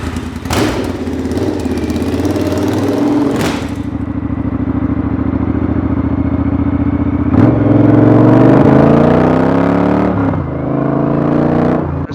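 A custom Triumph Bonneville T120 motorcycle engine runs loudly and close by, holding a steady idle that is broken by a few sharp thuds before it revs up and settles again.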